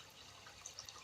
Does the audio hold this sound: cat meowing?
no